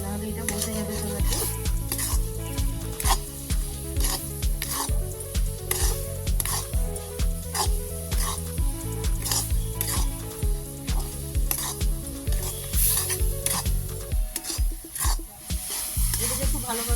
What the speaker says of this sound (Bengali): এটাকে ভালোভাবে অনবরত নেড়ে দিতে হবে